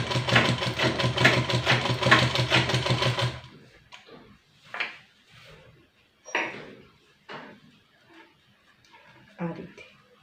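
Sewing machine stitching a baby top, running loud and steady for about three seconds, then quieter spells with short bursts of handling noise while someone talks.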